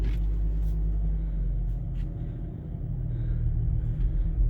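A 2016 Jeep Wrangler is put in gear and rolls slowly forward up a driveway, its engine giving a steady low rumble with a few faint clicks and knocks at the start.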